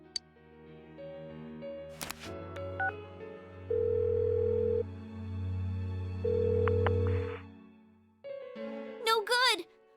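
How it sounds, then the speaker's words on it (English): Unanswered phone call in the Persona 4 video game, electronic ringing tones repeating in short steady bursts among soft game music and brief voice sounds. "Give her another call."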